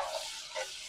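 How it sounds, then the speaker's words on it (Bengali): Ginger garlic paste fries with crisp fried onions for chicken biryani, a close, brief sizzle with soft stirring scrapes and no talking. "এই যে আদা রসুনটাকে না একদম পেঁয়াজ বেরেস্তার সাথে মানে ভালো করে ভাজতে হবে"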